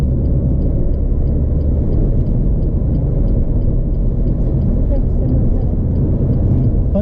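Car engine during a driving lesson on the road, a steady low rumbling drone inside the cabin with a faint regular ticking, continuous throughout.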